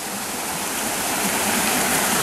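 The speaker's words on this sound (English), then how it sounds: "So this is the creek between Duncan and" The creek between Duncan and Rose lakes rushes down a ravine on the Border Route Trail, a steady, loud, full-bodied roar of flowing water with no breaks.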